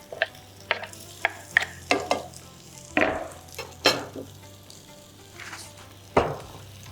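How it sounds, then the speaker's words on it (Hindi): Potato pieces frying in hot cooking oil, seasoned with salt and chaat masala, giving a low steady sizzle broken by a series of sharp clinks and scrapes from stirring with a utensil. "तलो कुकिंग ऑयल में असां जेके पटाटा आहिनि इन्हनि खे फ्राई कयोसीं"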